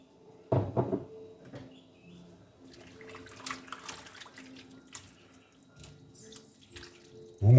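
Water poured into a pot of spring lamb navarin stew while cooking, a soft splashing and trickling that follows a sharp knock near the start and continues quietly in the background.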